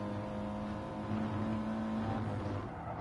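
Engines of racing cars including an Audi in a sim racing game, a steady droning hum with a slight rise in pitch midway, cars running close together without any talk.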